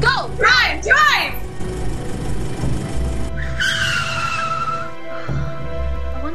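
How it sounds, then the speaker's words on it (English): In an audio drama thriller, a car engine revs and tires squeal as the car speeds away, loud and close, with excited voices shouting over the start. "Lauren, start the car! When it calls out to you, you're gone. Go! Go! Drive! Drive!"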